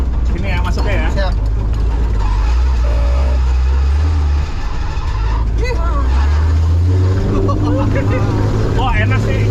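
The engine of a Toyota FJ40 with fuel injection and an open air filter revs off-road, its low droning pitch rising and falling across several swells, while people talk over it.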